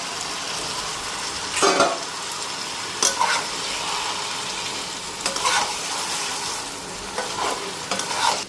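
Chicken fries in a pan with soy sauce, tomato sauce and Maggi seasoning. It gives a steady, close sizzle with occasional louder scraping stirs every second or two.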